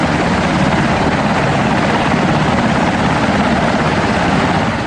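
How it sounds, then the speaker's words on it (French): A helicopter arrives at a pickup point, its rotor thudding steadily and loudly throughout with a dense, unbroken roar and no voices over it. "Ils attendent l'arrivée d'un hélicoptère qui vient récupérer le jeune homme."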